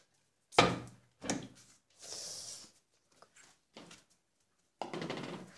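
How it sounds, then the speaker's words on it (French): A large door is opened in the morning at a place where animals are kept: a series of separate wooden knocks and clunks, a short scraping slide, then quieter taps and a final rattling bang, close and sharp. "le matin c'est moi qui dois ouvrir la grande porte"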